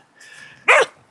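Bella the dog, at a camp on flat grass below an estate track in Glen Affric, lets out a single short, sharp bark close by after a faint whine.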